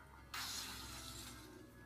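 A glass door shatters in one sudden, loud crash at an abandoned cabin, followed by a long bright tail of falling, tinkling shards that slowly fades.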